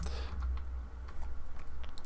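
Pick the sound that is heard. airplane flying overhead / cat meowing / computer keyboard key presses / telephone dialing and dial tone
computer keyboard key presses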